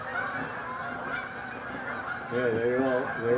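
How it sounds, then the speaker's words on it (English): Honking geese fly overhead, their repeated calls layered over a steady outdoor background, growing louder and more frequent toward the end. "Whoa, here come the ducks. The geese."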